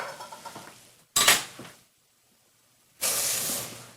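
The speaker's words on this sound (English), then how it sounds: "I'll stir the grains around for a few minutes in the hot oil." Rice grains stirred in hot oil with garlic for risotto make sizzling, scraping bursts in a pan, separated by a quiet gap, close and fairly soft.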